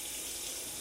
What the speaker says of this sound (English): turn on the hot water and heat that bottom of your drain up really hot